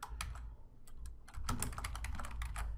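Rapid keystrokes tap out question text on a computer keyboard, a close, steady run of clicks with small gaps and no voice.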